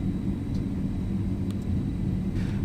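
FlightFactor 767-300F cargo jet in X-Plane 12 during takeoff at Louisville, a steady low engine roar and rumble, loud and continuous with faint clicks above.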